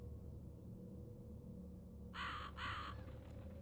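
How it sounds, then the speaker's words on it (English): Two loud, harsh crow caws sound close together over a low, steady ambient hum in the RPG Maker game Paracom, with a quieter background stretch leading up to them. "Oh, those are crows."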